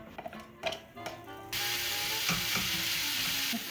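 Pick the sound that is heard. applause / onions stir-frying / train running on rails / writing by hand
onions stir-frying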